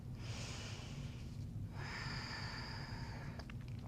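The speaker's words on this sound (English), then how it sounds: "Take one full breath here." A single slow, deep breath drawn in and released through the nose during a gentle yoga back bend, soft and close, with faint room hum beneath.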